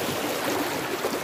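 River water rushes steadily where people bathe and swim in the afternoon, a broad continuous wash of flowing noise, close and even, with no voices.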